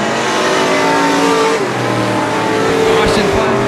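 Race car engine roaring loudly at speed around a dirt track at night, a steady high-revving drone with shifting pitch, heard under excited commentary.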